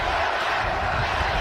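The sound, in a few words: football stadium crowd cheering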